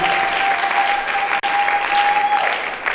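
A church congregation applauding, dense, loud and sustained clapping from a large crowd filling the room, with a steady tone ringing beneath.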